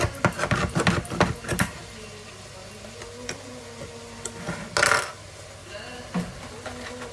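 A large spoon scoops tomato coulis and clinks against a dish, a quick flurry of sharp metallic taps at first, then scattered single clicks and scraping.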